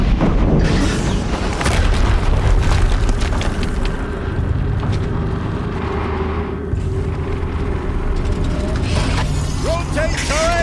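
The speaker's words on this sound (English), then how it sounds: "Another explosion." Explosions in the Horizon Zero Dawn video game boom repeatedly with deep rumbling blasts over dense, loud game noise throughout.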